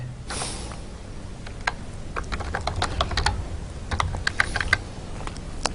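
Someone types code on a computer keyboard, with rapid, uneven clusters of close, crisp key clicks running throughout and no talking.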